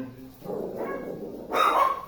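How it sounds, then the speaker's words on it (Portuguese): A small dog barks indoors, starting with a muffled low rumble and then giving a sharper, louder yelping bark toward the end, heard at moderate distance in a quiet room. "cachorrinho latindo dentro"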